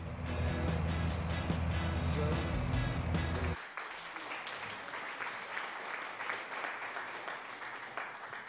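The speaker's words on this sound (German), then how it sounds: "heute spielt der Vladimir mal Applaus" An applause sound effect during a Landwirtschafts-Simulator 19 farming game stream: loud dense clapping and cheering over a low hum for about three seconds, then cutting to a thinner, quieter wash of clapping that continues to the end.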